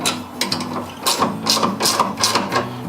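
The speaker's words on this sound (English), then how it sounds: "tighten it down just a little bit with your 16mm" A 16mm wrench tightens a bolt on a universal bed rack for a rooftop tent, giving close, loud ratcheting clicks and metallic ticks in short uneven bursts, with no speech.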